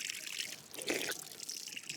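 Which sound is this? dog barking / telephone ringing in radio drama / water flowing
water flowing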